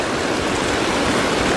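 A river rushes beneath a crossing near twin waterfalls on Mount Pangrango, a loud, steady broadband roar of flowing water that fills the whole moment without a break.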